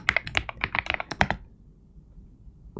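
Rapid clacking keystrokes on a mechanical computer keyboard, a burst of close, loud typing for about a second and a half that then stops, leaving quiet room tone and a faint final tap.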